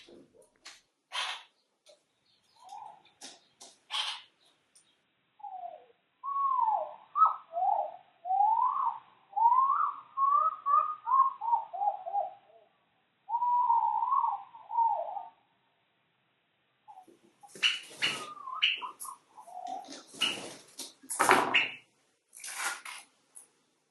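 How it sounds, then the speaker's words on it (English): Two pet birds chatter and shout with warbling, rising calls and sharp squawks around someone painting, the sounds close and fairly loud, running continuously with short pauses and growing more raucous toward the end. "I have two curious birds chattering and shouting around me"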